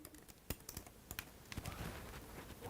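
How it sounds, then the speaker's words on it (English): Someone types on a computer keyboard nearby: quiet, irregular key clicks in short bursts, growing denser toward the end, with no talking. "I was typing."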